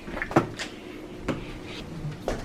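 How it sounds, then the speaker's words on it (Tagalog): Knocks on a door inside a home, three separate short raps spread apart, fairly close and moderately loud, with no voices. "May kumakatok na."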